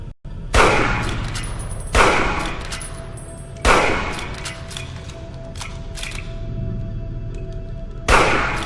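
Gunfire in the video game Fallout: four loud, sharp shots at uneven intervals, each with a ringing tail, over a low ambient hum and no talking.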